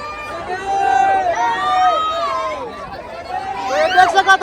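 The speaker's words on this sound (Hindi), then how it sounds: "राजधानी रायपुर के एक टॉकीज के सीन इतना ज्यादा क्राउड हो चुके हैं" Packed crowd inside a movie theater in Raipur, with a dense mix of overlapping voices and shrill shouts and whistles close by, rising at the end.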